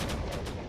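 Cannon fire and missiles in a space battle video game, a dense, loud, continuous barrage of booming shots with a few stronger hits.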